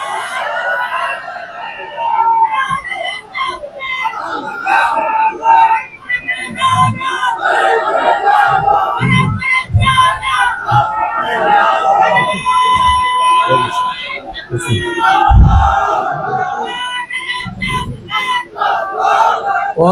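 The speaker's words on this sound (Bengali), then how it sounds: "জোরে সোরে তাকবীর দেন।" A large crowd shouts takbir loudly at an outdoor religious gathering in Mirsarai, Chattogram, a sustained roar of many voices with rising and falling surges across the whole stretch.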